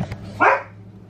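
A dog barks once, sharp and close, after a faint brief yip at the start, with a low steady hum beneath and no talking.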